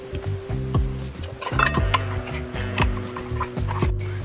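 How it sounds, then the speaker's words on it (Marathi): A ground rava ladoo mixture is tipped into the same kadai used to roast the semolina and stirred, giving close, repeated scraping and rubbing strokes over a steady tonal background. "आता आपण ज्या कढईमध्ये रवा भाजून घेतलेला आहे त्याच कढईमध्ये हे मिश्रण टाकत आहे मी"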